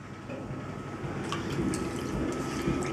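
Water sloshes and drips over spinning clay on a potter's wheel during centering, a soft wet churning under a low motor hum, close and gradually building, with no voices.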